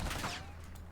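A brief, dense burst of rapid gunfire in a competitive esports shooter match, loud and close, filling the whole moment with crackling shots.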